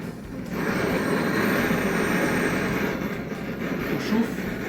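Gas flame roaring steadily under a tarte tatin mould to loosen the caramelized apple topping, a broad rushing hiss that holds for several seconds with faint kitchen clatter.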